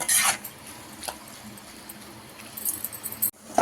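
A spoon stirs a broad bean, fenugreek leaf and tomato curry in a pan, giving a few light scrapes and metallic clinks at the start and end, with a quiet stretch of cooking hiss between.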